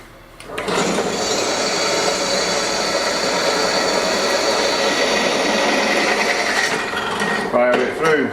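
A power drill bores through metal lubricated with cutting fluid in a home workshop, a sustained loud whirring grind lasting several seconds, then stopping abruptly with a few clunks at the end.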